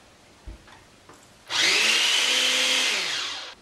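A kitchen blender pureeing cooked sweet potatoes: after a couple of faint knocks, the motor starts with a sudden loud steady whine that drones evenly for about two seconds, then dips slightly as it winds down.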